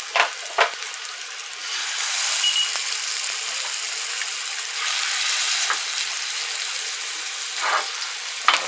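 Halibut chunks searing undisturbed in a hot pan give a steady, close, even sizzle of frying fish, with a few brief clicks and taps along the way.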